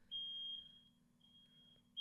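Shrill, high-pitched beeping from a household smoke alarm triggered by cooking downstairs, two long tones a moment apart, heard from a room away over a faint steady hum.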